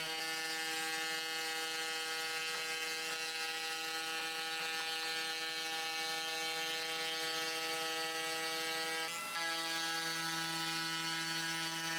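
A CNC router runs along its axes on a desk that rocks as it moves, giving a steady loud motor whine with layered tones that shift pitch abruptly near the end.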